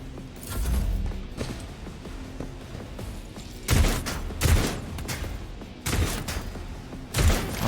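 Gunfire in the Warhammer 40K: Rogue Trader video game as a shot is aimed at a barrel: dense, loud bursts of shooting and impacts over a steady rumbling game soundscape, with several sharp surges.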